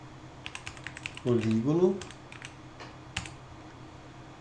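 Keys on a computer keyboard tap in a quick run of light clicks, pause while a voice speaks briefly over them, then resume with a few more taps.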